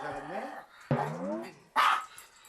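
A fearful Maltese dog barks sharply at a stranger indoors, with two or three close, yappy barks. People talk over and between the barks.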